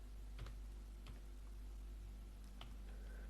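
Faint, sparse keystrokes on a computer keyboard, a handful of soft clicks spaced irregularly over a low steady background hum.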